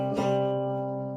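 Several notes a fifth apart ring out together, struck once and sustaining smoothly as they slowly fade, clear and unaccompanied.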